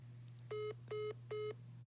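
A phone line after a call is hung up: three evenly spaced electronic tones over a steady low hum, then the line cuts to silence.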